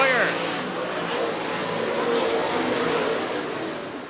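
Race cars lap Hartford Speedway during a heat race, their engines roaring and revving at a distance in a steady wash of sound, with a commentator talking over the noise.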